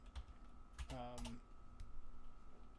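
Light, quiet clicking of keystrokes on a computer keyboard during coding practice, a few scattered taps against a faint background hum, with a brief voice in the middle.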